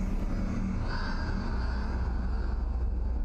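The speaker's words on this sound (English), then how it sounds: "That's like a linking book sound." A steady low rumbling whoosh from a linking book in the video game Uru: Ages Beyond Myst, heard alone and sustained at even loudness with a faint airy shimmer above.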